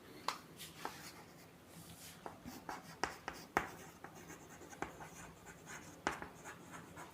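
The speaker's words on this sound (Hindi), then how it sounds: "पहले डेफिनेशन लिख लेते हैं," Pen strokes writing out a physics definition on paper, with scratchy scribbles and sharp taps as letters are formed, close and quiet in an otherwise still room.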